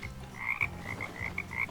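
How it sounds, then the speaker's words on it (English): Frogs croaking in the video game Depraved, a steady series of short repeated croaks close by, alone without talk. "There's the frogs."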